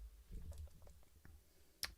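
A computer mouse clicked once, a sharp, close, isolated click following a few faint low taps and handling noises, with no talk.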